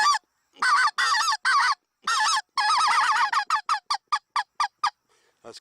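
A goose call blown to imitate a feeding goose flock: quick bursts of honking clucks, first in long runs, then in short rhythmic chirps that taper off, loud and close with no talk.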